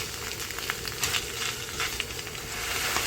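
Lobster meat cooks in melted butter in a pan, giving a steady close sizzle with soft stirring scrapes and occasional pops and no voice over it.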